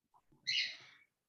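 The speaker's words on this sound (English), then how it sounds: "somebody's got a bird" A single short bird call rings out, bright and a little harsh, lasting about half a second over faint room noise, then stops.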